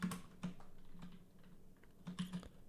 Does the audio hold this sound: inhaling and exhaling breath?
no